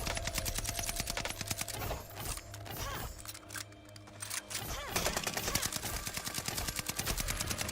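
Rapid video game gunfire rattles in dense, fast bursts, briefly thinning in the middle before resuming at full intensity, loud and close.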